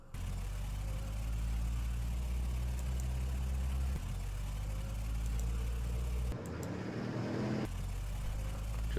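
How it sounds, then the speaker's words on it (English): Engines of armed trucks in a Vietnam war strategy game rumble steadily and low as the vehicles drive along a road. The drone is continuous and fairly loud, with a brief dip and a shift in tone near the end. "We're going to send our other armed trucks down along the road."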